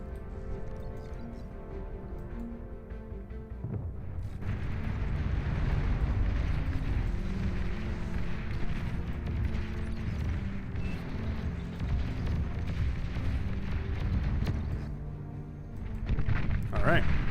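Massive bombing run in a strategy video game, a sustained heavy rumble of overlapping explosions that builds after a few seconds and stays dense and loud, with a voice talking underneath.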